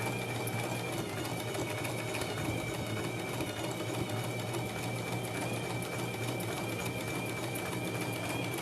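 A sewing machine runs continuously while stitching a buttonhole, a dense steady mechanical whir and rattle close by with no pauses or talk.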